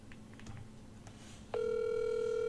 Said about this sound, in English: can you hear the phone ringing?